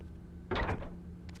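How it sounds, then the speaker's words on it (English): A slow, creaking wooden door swings open in the survival horror game Fatal Frame, one drawn-out burst of grinding creaks over a low steady hum, followed by a brief faint scrape. "It just takes such a long time to open the door."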